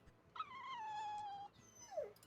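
A dog in the video game Tales of Berseria lets out one drawn-out whimpering whine that drops at the end into a short yelp, faint and clean against a quiet background.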